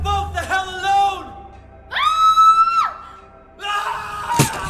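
Two characters scream together in the horror game Silent Hill 2 at the Lakeview Hotel, a sustained, loud, high shriek lasting about a second. It is set between stretches of other vocal sounds and clatter.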